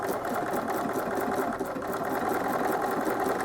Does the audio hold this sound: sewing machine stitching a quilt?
yes